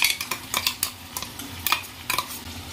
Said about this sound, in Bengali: দেন ভালো করে মিক্স করে নেব।